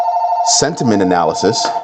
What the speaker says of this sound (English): Sorry about that phone.